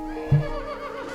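A horse neighs once in a video game trailer, a short whinny rising over a background music bed, with faint hoof-like clip-clop sounds.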